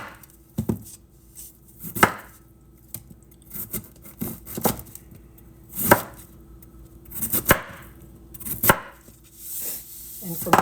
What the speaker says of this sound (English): I'm just going to go ahead and slice it up